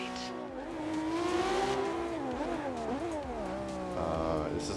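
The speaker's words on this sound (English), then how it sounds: "This car I'm driving is the Ferrari LaFerrari." A Ferrari LaFerrari in Forza Horizon 2 drives with a loud, steady engine note that rises and falls as it revs and shifts, its pitch sweeping up and down through gear changes.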